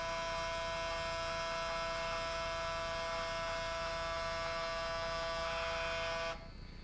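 A Braun Series 9 9280cc shaver cleaning station runs with a steady, close electric hum and whir that holds evenly for several seconds, then drops abruptly near the end.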